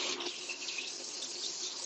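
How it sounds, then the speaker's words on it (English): Tap water runs steadily from a kitchen faucet as hands are washed mid-way through making pastry, a continuous close, even hiss and splash with no talking. "So wash my hands."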